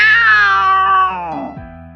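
A black cat in the video game DeepOne gives one loud, close meow that falls in pitch and trails off over about two seconds.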